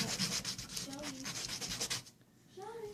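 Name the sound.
sanding wood edges with sandpaper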